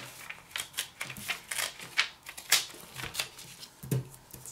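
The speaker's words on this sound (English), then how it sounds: "Then you can just tear it in half." A square of origami paper torn in half by hand, with a run of short dry crackling rips and rustles at close range, no voices.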